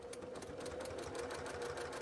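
A sewing machine runs steadily, its needle stitching in a fast, even mechanical rhythm with a hum beneath it, close and continuous throughout.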